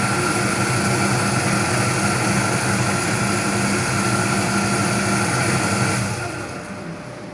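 Nhimex fuel dispenser pumping a 2-litre sale, a steady loud mechanical hum with tonal whine that runs continuously and then drops off near the end as the pump stops.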